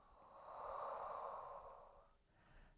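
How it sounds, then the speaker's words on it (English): A person takes a slow, deep breath in and exhales during a Pilates session for sciatica pain. The airy breath is faint and close, swelling and fading over about two seconds, with a softer breath after it and no talking. "One more deep breath in and exhale."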